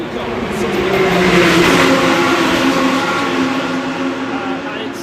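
GT3 and GT2 race cars circuit racing at the 24H Barcelona endurance event, a loud sustained engine roar that swells and fades as the cars pass, with commentary voices underneath.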